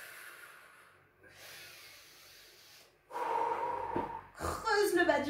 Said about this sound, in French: Expire par la bouche.